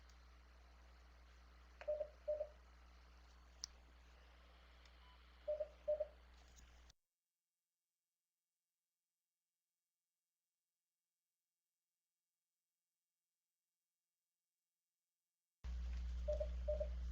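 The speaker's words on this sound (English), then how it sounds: "I muted my mic there because my phone's ringing" A phone rings faintly with paired electronic beeps that repeat every few seconds over a low hum. The sound cuts to near silence for several seconds, then the hum and ringing return.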